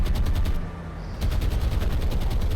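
Naval guns fire in the World War II warship game War on the Sea, a loud, rapid, continuous barrage of repeated shots that briefly dips and then resumes.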